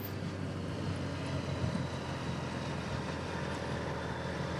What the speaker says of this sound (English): Here are some of the VIP helicopters that follow the race.